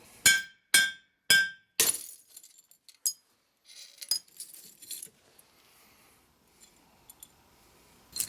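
Glass struck with a rock while knapping an arrowhead: several sharp, bright clinks in quick succession, then scattered lighter taps and small chipping ticks, close up and otherwise quiet.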